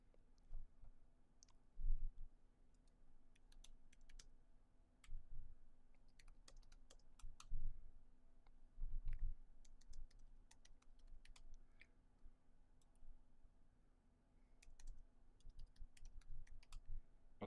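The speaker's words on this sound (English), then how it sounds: "So type git clone." A git clone command is typed on a computer keyboard: quiet, rapid key clicks arrive in uneven bursts with short pauses, close to the microphone over a low steady hum.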